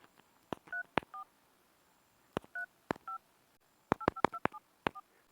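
Keypad tones from a mobile phone as a Ufone number is dialed: short crisp beeps in irregular clusters, a few spaced presses, then a quicker burst of several, close and clear with no talk.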